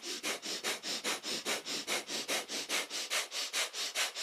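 Rapid, forceful nasal breath-of-fire pranayama during a kundalini yoga kriya: a steady train of about eighteen sharp, evenly spaced sniffing exhalations, close and fairly quiet, with no talking.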